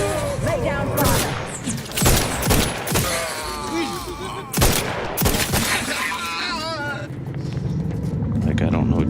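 Gunshots crack through a firefight in the video game Outer Worlds 2, several loud sharp bursts early on that give way to a rumbling din, with voices talking over much of it.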